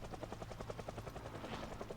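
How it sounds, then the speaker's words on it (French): A helicopter from the zombie survival game Project Zomboid drones overhead with a steady, pulsing rotor chop, loud and continuous throughout with no voices. "J'espère que l'hélico va pas durer 3 heures."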